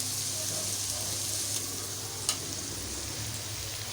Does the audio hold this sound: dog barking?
no